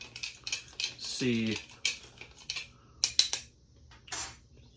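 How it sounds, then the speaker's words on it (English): Bitters stirred into a bourbon Sling cocktail in a glass, producing a series of light clinking and tapping ticks at close range, with a short spoken word partway through. "So let's kind of mix these bitters in here a little bit."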